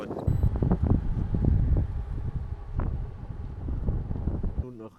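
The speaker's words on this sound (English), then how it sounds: "No view, but really cold wind." Cold wind gusts across a mountainside during a bikepacking ride, buffeting the microphone in loud, uneven rumbling bursts, with voices talking over it.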